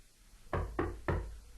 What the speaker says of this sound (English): We cut inside as Geoffrey knocks on the door of Jim's office.